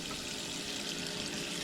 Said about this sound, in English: I will fill this up with some room temperature water